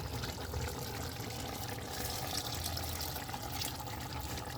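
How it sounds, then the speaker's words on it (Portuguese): A little water is poured into a pot of beef cooking with tomato, a soft, continuous splashing and trickling that runs steadily for several seconds without talk. "Agora a gente vai colocar só um pouquinho de água e deixar secar a água dela também da própria carne"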